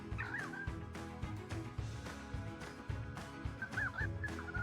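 A video-game bird gobbles like a turkey in repeated warbling bursts, loud and close over a steady bed of game music and ambience.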